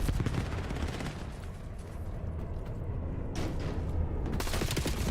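Rapid automatic gunfire from a 50-round magazine weapon in Black Ops 7, a dense sustained burst of shots with mechanical clatter and a brief lull before firing resumes.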